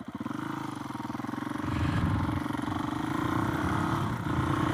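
A Suzuki DRZ470S single-cylinder motorcycle on an engine break-in ride revs with a pulsing thump, then climbs to a louder, busier note as it moves up through the gears, close and continuous.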